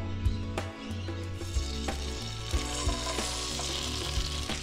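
Eggs sizzle and fry steadily in a pan at an outdoor park breakfast in Port Stephens, Australia, with a continuous close crackle and occasional soft knocks and clinks of utensils.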